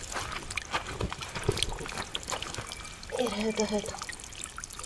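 Water trickles and pours from a household plumbing fixture, a faint running dribble beneath a voice speaking nearby, with a brief louder gush toward the end.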